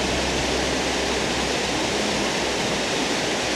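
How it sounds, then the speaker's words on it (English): Water rushing in a steady, loud roar across a main road high in the Andes mountains, a continuous broadband torrent like a waterfall with no voices. "but I have a huge water line going and covering the main road."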